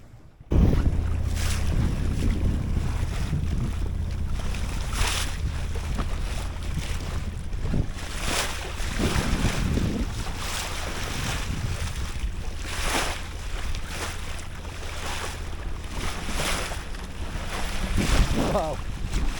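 Strong wind roars steadily across a boat at sea, with gusty rumble and microphone buffeting mixed with wave wash throughout, loud and continuous.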